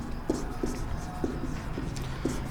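A pen writes on paper during a maths lesson: soft scratchy strokes with small taps, fairly close, over a faint steady background hum.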